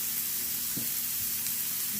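Meat searing in a hot, lightly buttered pan on a home stove, a steady close sizzle and crackle of frying running throughout with no talk.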